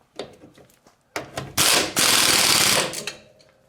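Ratchet tightening the bolt on a rear coil-over shock of a 1974 VW Beetle, a few soft clicks followed by loud, close bursts of rapid ratcheting.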